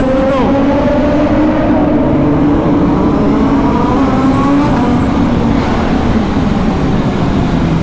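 A BMW S1000RR motorcycle engine drones loud and steady inside a tunnel, its tone reverberating and climbing slightly as it runs, with road noise underneath.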